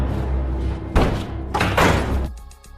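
Heavy thuds land on a wooden door, two or three loud bangs over a constant low hum, close and booming, with no talking.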